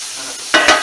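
Butter sizzles in a hot frying pan with steak Diane and mushrooms, two loud bursts of frying hiss rising sharply after a quieter stretch, close and with no talking.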